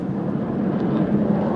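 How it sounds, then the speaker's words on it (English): Steady broadband roar of a jet aircraft passing overhead, continuous and fairly loud throughout with no clear speech over it. "jet is flying everywhere"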